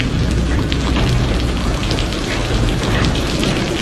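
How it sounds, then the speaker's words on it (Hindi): Heavy rain pours down at night over a poor farmer's home, a dense, loud, continuous roar of drops hitting surfaces with no voices. "कितनी देर से बारिश आ रही है, रुकने का नाम ही नहीं ले रही।"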